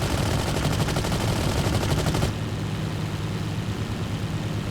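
Rapid machine-gun fire in the Battlefield 1942 video game on the Omaha Beach map, a loud dense burst of shots that cuts off abruptly into a steady engine rumble, with no voices.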